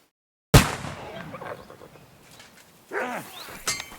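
Single sharp, loud gunshot from a firearm in Kingdom Come: Deliverance 2, with a brief tail of reverberation, followed by quieter ambient game sounds and a short bird-like call.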